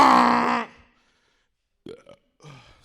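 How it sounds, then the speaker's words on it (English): A person lets out one long, loud, gravelly burp up close, then a short pause before two brief voiced sounds that could be talk. "I just farted at the same time I burped"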